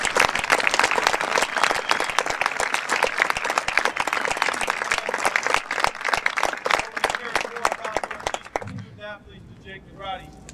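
Sustained applause from an audience at a university number retirement ceremony, dense clapping lasting about eight and a half seconds before fading, followed by a voice speaking.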